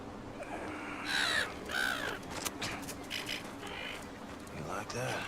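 A crow caws in harsh repeated calls amid the ambient soundscape of Wolfenstein: The New Colossus, with other game sounds and brief voice-like noises around it.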